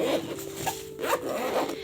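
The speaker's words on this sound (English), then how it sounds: "And it zips" A zipper runs shut around a compact folding travel art case packed with art supplies, in two close rasping pulls.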